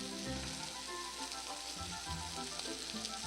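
Sausage frying in a pan gives a steady, close crackling sizzle that runs unbroken throughout at a low, even level, with no talking.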